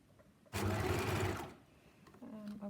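A sewing machine stitches a collar onto a neckline in one steady burst of about a second, a close whirring rattle, with someone speaking softly before and after it.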